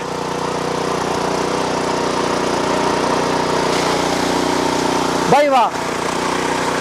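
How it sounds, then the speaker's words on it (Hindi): A machine's engine runs with a loud, steady mid-pitched drone while water is poured over it; a man briefly exclaims near the end. "भाई देख लो मशीन चालू है और ये अभी पानी डाल रहे हैं इंजन के ऊपर"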